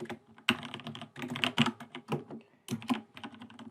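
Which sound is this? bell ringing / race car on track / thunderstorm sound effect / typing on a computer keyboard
typing on a computer keyboard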